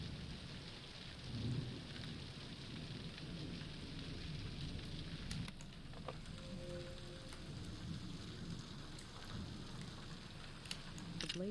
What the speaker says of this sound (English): Let's record the storm.